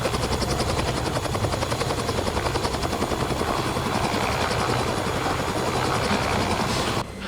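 Loud, continuous rotor chop and turbine whine from a Robinson R66 helicopter in the X-Plane 11 flight simulator, a dense and steady throb that runs unbroken before dropping off at the very end.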